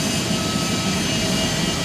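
Steady, loud broadband roar of GE90-115B turbofan jet engines on an Emirates Boeing 777, a dense continuous rumble with a faint whine above it, unbroken and with no voices.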